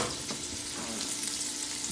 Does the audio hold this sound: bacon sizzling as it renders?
yes